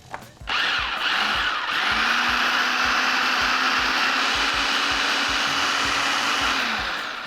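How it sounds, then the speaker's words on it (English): An electric blender whirs steadily mixing two eggs with granulated white sugar, starting with a short burst and then holding a loud, even motor hum for several seconds before easing off slightly. "So you want to blend all this together until it's a nice consistency, about 45 seconds to a minute"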